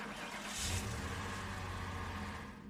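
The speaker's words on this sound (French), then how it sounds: "Quelques secondes plus tard, le véhicule a redémarré d'un grondement sourd." A vehicle engine starts up again and settles into a low, steady rumble that swells briefly near the start, then holds close and even throughout with no voices.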